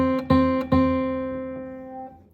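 A single guitar note picked on the B string fretted at the first fret, struck clearly and repeated once, ringing out alone with a slow, sustained decay.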